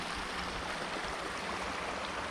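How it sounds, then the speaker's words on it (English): A babbling brook runs beside a campsite with a fire pit, giving a constant, close, even rush of flowing water with no pauses and no voices. "sleeping next to a babbling brook"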